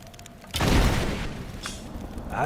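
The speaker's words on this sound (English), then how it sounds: "We were just shooting at it from the wrong angle" A gun is fired at a target in the game Rise of the Tomb Raider. The shot is one loud, booming report followed by a rumbling tail, heard up close. A second, fainter crack comes near the end, and no one speaks.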